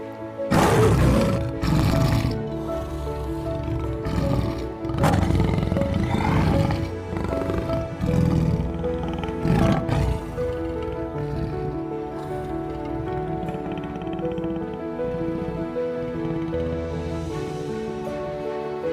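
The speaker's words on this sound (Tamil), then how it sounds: "புலி உருமும் சத்தம் கேட்டது." A tiger roars loudly and close in a dense forest, several deep rumbling bursts in the first ten seconds, then a lingering low growl and ambient rumble.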